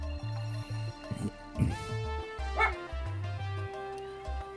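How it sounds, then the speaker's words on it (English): A pet dog named Marmy barks and yips in short bursts in the background, over steady, droning video game music. "My dog, Marmy, barking in the background"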